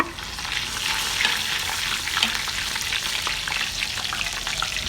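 A teaspoon of cumin seeds hits browned onions frying with curry leaves for green kadhi pakora, giving a loud, dense, continuous sizzle close up, with faint crackles and stirring scrapes through it.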